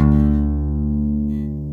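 A single sustained bass guitar note, D played on the A string at the fifth fret, rings out clearly and slowly decays, heard alone and close.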